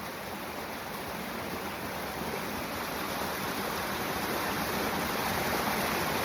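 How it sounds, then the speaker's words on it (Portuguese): Running water gives off a steady broadband rush that swells slightly louder over several seconds, constant and close with no voices. "Agora diminuiu a água."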